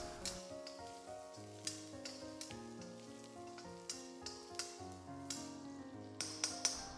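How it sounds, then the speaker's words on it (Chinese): Chopped scallion, ginger, garlic and chili stir-fry over low heat in a wok with pork belly, a soft sizzle and regular spatula scrapes under gentle background music. "再下入切好的葱姜蒜末、小米椒，继续小火炒出香味"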